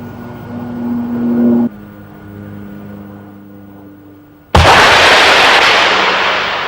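A Bofors anti-aircraft gun fires at a towed sleeve target: a low rumbling hum gives way at one point to a sudden loud, broadband blast that decays slowly, with no talk.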